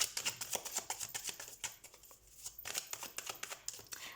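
Playing cards are drawn and shuffled in quick succession, a run of close, crisp flicking and riffling clicks that breaks for a short pause and then resumes at the same brisk pace.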